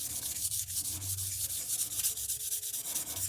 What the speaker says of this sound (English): You're going to sand this down.